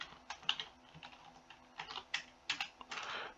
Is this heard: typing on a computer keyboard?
yes